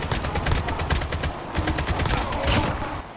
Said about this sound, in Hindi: आप देख ही सकते हैं कितनी गोली बारूद कितना चल रहा है चारों तरफ से।